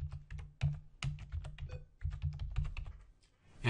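Someone types a company name on a computer keyboard, with quick bursts of crisp key clicks grouped into short runs and brief pauses between them, close and clear in a quiet room.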